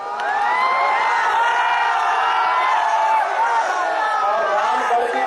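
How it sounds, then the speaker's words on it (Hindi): A big rally crowd on the Ramgarh ground in Kaimur chants Lord Ram's name in a loud, sustained, echoing roar of many voices that rises and falls. "कैमूर के रामगढ़ मैदान में श्री राम के नाम का उद्घोष हो रहा था।"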